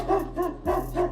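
A service dog barks four times in a quick, evenly spaced series, moderately loud and close, with a steady low hum underneath and no talk.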